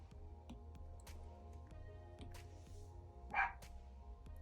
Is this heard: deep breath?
no